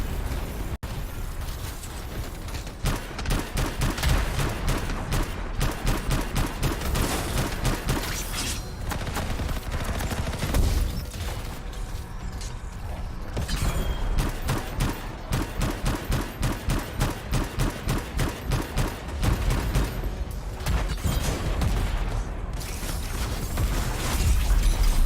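Sustained bursts of rapid gunfire and explosive pops in the video game Anthem, loud repeated volleys in a rhythmic staccato pattern across the whole stretch, with brief lulls between bursts and no talk.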